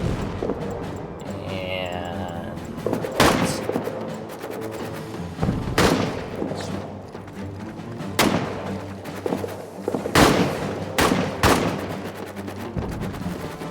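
Returned gunfire in the trench-warfare video game All Quiet in the Trenches: a string of loud, sharp shots and thuds at irregular intervals over a steady low rumbling battlefield bed.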